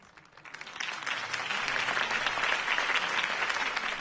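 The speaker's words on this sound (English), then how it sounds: "If only Mr. Wayne, my campaign's largest backer, could have heard that applause" Applause from a crowd in a Batman video game swells quickly and holds steady: dense, continuous clapping with no one speaking.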